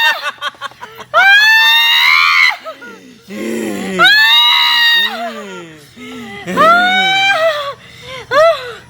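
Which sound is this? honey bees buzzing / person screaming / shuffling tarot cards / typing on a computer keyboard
person screaming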